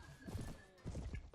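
Hoofbeats of a horse galloping in Mount & Blade: Warband with the Perisno mod, a quick run of muffled clip-clop thuds in two bursts with a short whinny-like tone, mixed with game noise.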